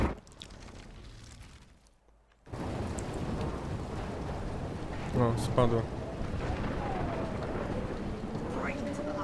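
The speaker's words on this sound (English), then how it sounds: "Right into the eye of the storm." A thunderstorm in the video game Life is Strange Remastered: steady heavy rain and wind roar with a rumbling thunder swell midway, preceded by a brief quieter stretch. A voice speaks briefly near the start.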